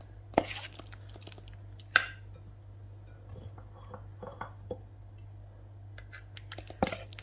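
Marinated chicken tikka scraped and dropped from one bowl into another in a kitchen, with sparse close clinks, taps and soft wet thuds scattered against a quiet background hum.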